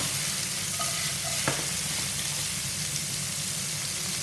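Turkey strips fry in a pan, a constant loud sizzle with a brief clink of stirring, a bright hiss that holds steady with no speech.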